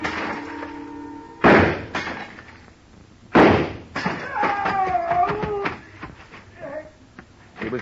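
Two sharp gunshot bursts in a department store radio drama, each followed by crashing glass from a shattering showcase, separated by a quiet gap and trailed by tinkling shards and a brief voice.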